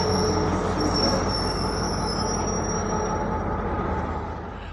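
A train pulls into Sohawa station with its wheels squealing in a sustained high metallic whine over a heavy rolling rumble, loud and close, easing off slightly toward the end.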